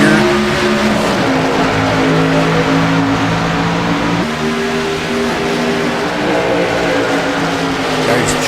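Race cars roar away at a green flag start, a loud, sustained blend of engines whose pitch climbs and shifts as they gain speed, with a commentator's voice running over the noise.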